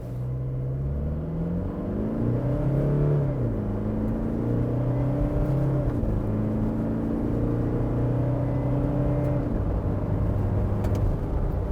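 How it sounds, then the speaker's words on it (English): A 2021 Toyota Fortuner SUV accelerates hard from a standstill toward 100 km/h, its engine droning steadily and climbing in pitch, dipping briefly at each gear change, heard close and continuous with no voices. "We don't have a 0 to 100 time for the Fortuner, but we've recorded it anyway."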